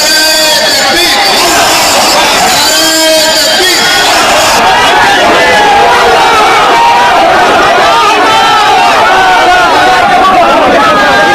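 A huge crowd gathered in Bengal for a mosque foundation ceremony, a dense, loud roar of many voices with chatter and shouting merging into constant hubbub throughout.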